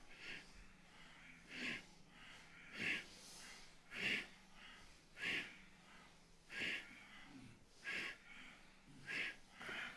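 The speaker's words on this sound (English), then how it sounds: "Breathe through your nose powerfully." Forceful rhythmic nasal breaths in a kundalini yoga class, about nine sharp exhalations spaced roughly one second apart over a low steady background, with no talking.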